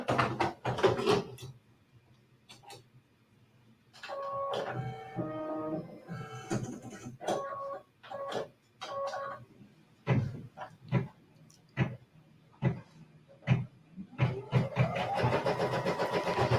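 A sewing machine runs close by, stitching a quarter-inch outline along the long edges of a quilt, its motor whirring in repeated short bursts that stop and start.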